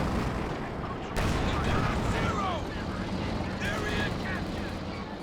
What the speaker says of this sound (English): Nice shot from the HE Sherman.